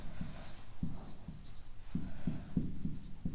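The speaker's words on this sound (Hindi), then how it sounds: "यहाँ लिख दे रहे हैं" Chalk or marker writing on a board during a class, a series of short scratchy strokes in uneven rhythm, close and fairly clear against a quiet room.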